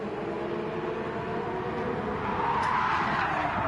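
Race car sliding with tyres skidding in Gran Turismo 7 during a Super Championship race at Autódromo de Interlagos, a steady loud engine roar with a broad screeching skid rising toward the end.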